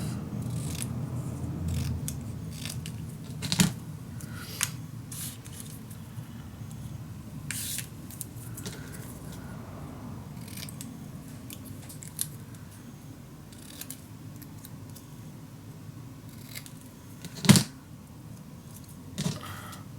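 Scissors make a few scattered sharp snips while cutting scrapbook paper for a handmade eclipse-themed mini album, each short crunch separated by pauses over a low room hum, with no talking.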